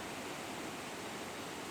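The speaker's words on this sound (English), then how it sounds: "right next to Big Cottonwood Creek, which is absolutely raging" Big Cottonwood Creek in spring flood along the Lake Blanche trail, its water rushing and churning in a steady, broadband roar that fills the whole clip without a break. The sound is loud and constant, with no voices over it.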